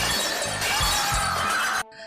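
A pyramid of stacked drinking glasses topples in a horror comedy film, a loud close crash and shatter of breaking glass lasting under two seconds before cutting off abruptly.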